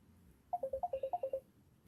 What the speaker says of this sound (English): And the phone ring.